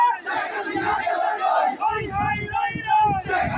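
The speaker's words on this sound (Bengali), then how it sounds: "সবাই মিছিল নিয়ে বের হয়েছে।" A dense crowd of students chants and shouts in rhythmic bursts during a victory procession through Gazipur streets after the anti-quota movement, loud and close, with voices rising and falling together.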